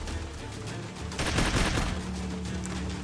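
Gunfire in the turn-based tactics game Troubleshooter, a dense burst of rapid shots that swells loudly in the middle and leaves a sustained rumble beneath game ambience.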